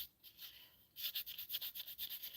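Sandpaper rubbing on small wooden tree-shaped earrings, a faint start followed by quick, steady back-and-forth scratching strokes, close up and with no talk over it.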